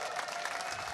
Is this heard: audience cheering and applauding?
yes